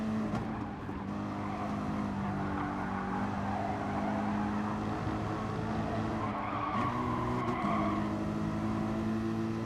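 A Nissan race car in a racing video game, engine droning steadily while tires skid and squeal almost continuously, loud and close, with a short dip as the car shifts mid-run.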